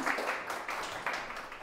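An audience claps for a guest arriving at a Slovak public talk, a short burst of faint, fairly distant applause with no voices over it.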